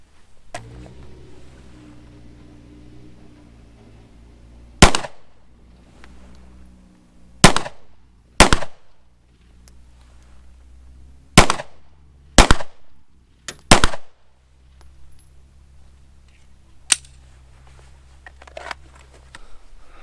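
Sharp, loud gunshots from a Glock 19 Gen5 MOS pistol, about eight separate reports spaced irregularly over twenty seconds against a quiet low hum, with no talking between shots.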